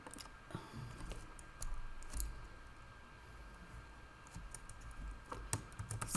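Clicking keystrokes on a computer keyboard while entering data into a database table, irregular bursts of taps at close range over a faint steady hum, with no voices.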